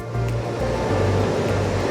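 Ocean waves wash steadily onto Vodarevu beach near Chirala, a continuous loud roar of surf with low rumbling and no voices.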